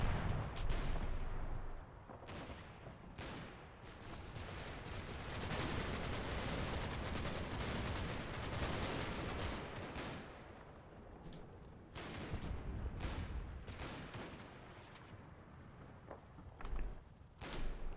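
Sharp gunfire bursts and distant artillery thumps from the Normandy battlefield game Combat Mission: Battle for Normandy, scattered irregular shots and volleys over a low rumbling background throughout.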